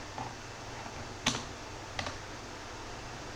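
Someone types SQL on a computer keyboard in a quiet room, the keystrokes faint and sparse, with a couple of sharper key clicks standing out against a low background hum.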